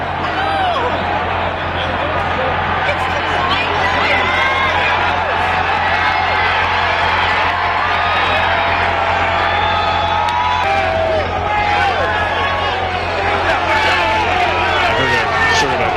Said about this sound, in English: Commotion and some shouting coming from somewhere outside the room.